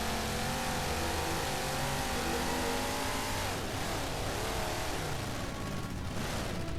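The Warthog vehicle in Halo 4 drives with a dense, steady engine roar that shifts in pitch as it accelerates, close and continuous with no pauses.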